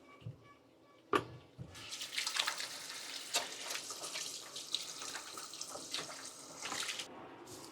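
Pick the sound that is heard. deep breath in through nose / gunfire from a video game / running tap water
running tap water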